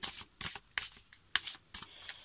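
Tarot cards being shuffled by hand in close, crisp bursts, five quick riffling rustles separated by short pauses, with no talking.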